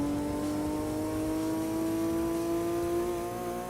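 A Nissan Sylvia race car's engine revs in Gran Turismo 2, a sustained high whine that rises slowly in pitch and stays loud and steady throughout.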